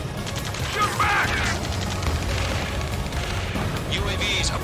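Heavy gunfire and booming explosions fill a battle scene in the video game Ace Combat, a loud, continuous barrage with shouted voices mixed in.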